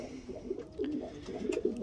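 Racing pigeons coo in a loft, soft low throaty calls repeating in short warbling bursts, close and moderately loud, with no one talking.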